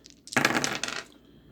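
Dice tumbling and clattering across a tabletop during a Strat-O-Matic baseball board game replay, a single brief burst of rattling that settles after about a second.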